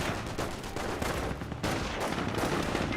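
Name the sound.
MG42 machine gun fire in Company of Heroes video game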